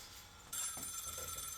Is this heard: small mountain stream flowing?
no